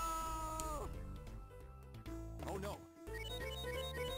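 A pet cat named Daisy meows near a computer, a few short drawn-out cries over background game music while a person talks.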